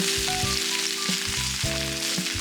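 Garlic and zucchini sizzle in olive oil in a skillet with a constant, close frying hiss, while a low, rhythmic humming tone pulses underneath throughout.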